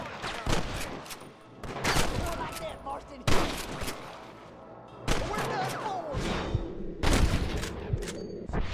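Gunfire in Red Dead Redemption, several loud bursts of shots and sharp cracks separated by brief lulls, with echoing booms and scattered game sounds between the volleys.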